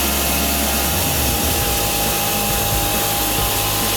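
A large $60,000 sawmill cuts through a log, its blade and motor holding a loud, steady drone throughout with a slight shift in pitch early on and no voices.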